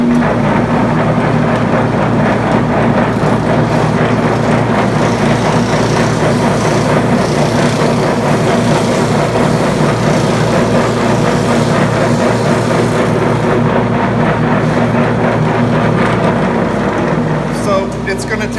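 A homemade DIY drum thickness sander grinds a board through, a loud unbroken motor roar with a gritty abrasive texture and low vibration, with someone talking over the noise.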